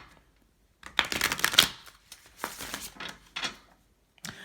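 A deck of tarot cards is shuffled close by, producing loud riffling bursts of crisp card flutter followed by a few softer shuffles and a final quick riffle, with no talking.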